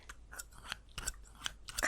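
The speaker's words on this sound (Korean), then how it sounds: "ASMR 소품으로 또 쓰일 수가 있지. 이런 가위들." Scissors snipping as an ASMR prop, a series of sharp, crisp metallic cuts in an irregular rhythm, close to the microphone and alone with no talking.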